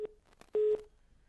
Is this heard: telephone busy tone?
yes